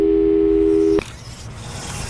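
A telephone busy signal from the Portal 2 video game plays as a steady pure tone for about a second, then cuts off abruptly into a quiet background hum.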